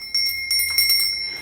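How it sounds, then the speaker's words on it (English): A small decorative bell, a keepsake gift, rings with a few bright metallic strikes that carry a steady high ringing tone, close and clear with no talking. "is this little bell"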